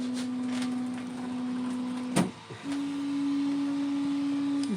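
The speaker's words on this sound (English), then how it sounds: "And let's jump to the 3D printer." A 3D printer with a BLTouch bed probe prints AIO filament, its stepper motors holding a steady droning whine. One brief knock breaks it before the motor tone starts again at a slightly different pitch.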